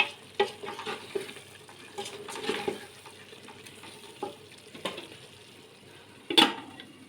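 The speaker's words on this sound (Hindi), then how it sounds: "चावल मेरे बन रहे हैं, और जी पालक भी मेरा बन रहा है" Rice and spinach cook in a pan in a home kitchen, with a faint sizzle beneath intermittent stirring scrapes and clinks of utensils, and one louder metallic knock near the end.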